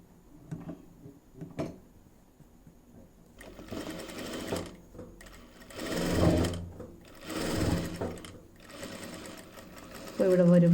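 A sewing machine stitches fabric at a quarter-inch seam in short motorized bursts separated by pauses and faint clicks, with a voice talking in between.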